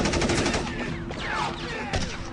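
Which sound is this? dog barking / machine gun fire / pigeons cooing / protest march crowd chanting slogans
machine gun fire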